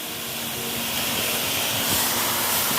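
Mutton meat hits a hot brass karahi cooking pot outdoors, setting off a loud, continuous sizzling hiss that swells slightly and holds steady throughout.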